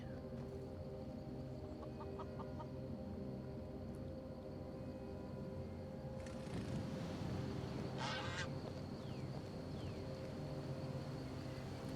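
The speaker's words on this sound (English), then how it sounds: "It is a spirit goose." In a barbarian-themed video game, a spirit goose gives a few quiet honks and clucks over a low ambient bed, with a louder cluster of calls a little past the middle.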